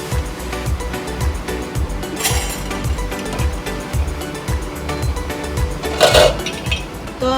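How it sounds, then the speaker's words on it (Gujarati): Boiled potatoes mashed in a metal pot, with a steady run of rhythmic clanking and scraping strokes close by and a few brighter clinks, no talking. "તો હવે પોટેટો મેશ થઈ ગયા છે"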